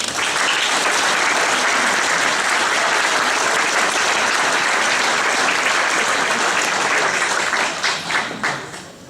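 Audience at a Press Club of Dallas Living Legends dinner at Belo Mansion breaking into loud, sustained applause for an honoree, steady for several seconds before thinning into scattered claps at the end.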